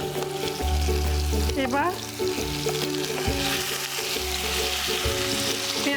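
Sugar melts in hot oil in a pan and is stirred, giving a steady close sizzle with periodic stirring strokes; a voice speaks briefly.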